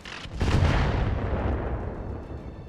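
A single heavy howitzer artillery blast in the Roguetech game, a sharp crack followed by a long rolling boom that slowly decays over a couple of seconds.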